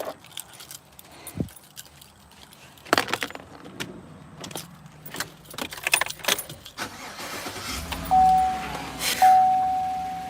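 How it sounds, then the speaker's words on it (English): Keys jangle near a car at a storage facility in scattered bursts of metallic clinks and rattles, with thumps, a door chime tone and handling noise around them. "There's my keys."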